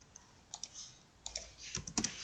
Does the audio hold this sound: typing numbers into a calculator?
yes